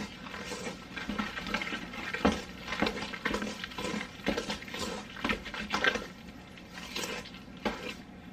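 Cookie batter is stirred by hand in a bowl in a home kitchen, a steady close patter of soft scraping and sticky clicking strokes continuing without talk.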